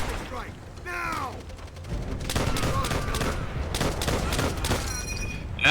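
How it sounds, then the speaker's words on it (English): Call of Duty battle noise: a rocket strike lands as a heavy barrage of explosions and rapid gunfire, dense and loud, with shouted voices over the din. "Rocket strike! Now!"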